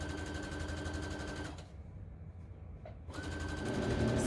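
A sewing machine stitches ribbon and tulle with a steady, close mechanical whir, stops briefly in the middle, then runs again. Nobody speaks.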